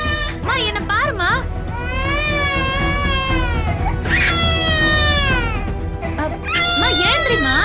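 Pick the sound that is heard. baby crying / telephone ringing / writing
baby crying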